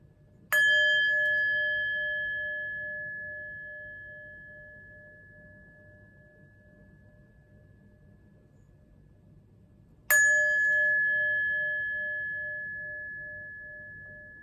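Two bright chime strikes ring out about ten seconds apart, each one sharp and clear, then sustaining a long, slowly fading tone over quiet background hiss.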